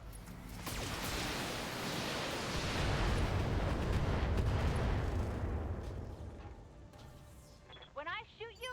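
Mech weapons fire and explosions from the BattleTech video game form a dense, loud roar of blasts and rumbling impacts lasting several seconds before easing, with speech breaking in near the end.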